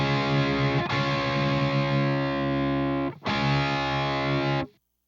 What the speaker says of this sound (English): I'm tuning down the B string a little bit to make that third just a little bit flatter, and it sounds just a little bit more pleasant